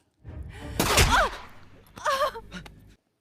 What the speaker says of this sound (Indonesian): tiba-tiba ada seorang yang menembak Yasmin